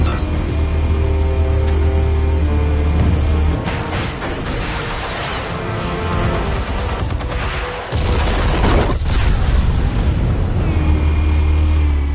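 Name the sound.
explosion from explosives detonated, Batman: The Telltale Series video game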